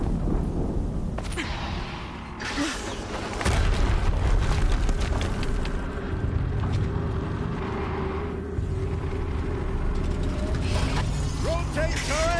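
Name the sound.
explosion in the video game Horizon Zero Dawn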